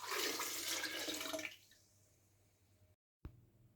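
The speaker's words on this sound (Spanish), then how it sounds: "Ahora le agregamos medio litro de agua." Half a litre of water pours into a food processor bowl holding jaboticaba fruit for juice, a loud splashing gush for about a second and a half, then a quieter trickle fading out, followed by a short clunk.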